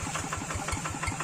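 A tractor engine running as the machine descends a steep, extreme hillside, a close, rapid rhythmic chugging with regular knocking pulses, steady and moderately loud, with no voices.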